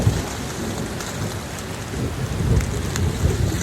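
A mountain thunderstorm at 10,000 feet in Wyoming pelts a camping tent with heavy rain, a dense, loud, continuous roar with gusting wind and low rumbles building toward the end.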